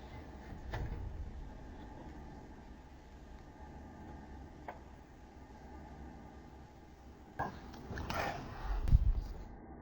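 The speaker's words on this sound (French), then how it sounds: "on peut voir l'homme s'approcher d'une porte et chercher à l'ouvrir" A man tries to open a door in a dark corridor during a paranormal investigation: near silence with a faint hiss, a couple of soft knocks, then louder rattling and thudding of the door handle and frame toward the end.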